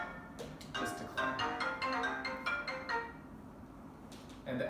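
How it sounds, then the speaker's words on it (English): A phone's ringtone from an incoming call plays a bright, repeating melodic pattern for a few seconds, falls quiet, then starts again at the end, with no talking. "I just got a little phone call from a friend"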